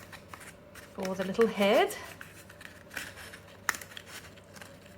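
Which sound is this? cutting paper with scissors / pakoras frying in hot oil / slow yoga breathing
cutting paper with scissors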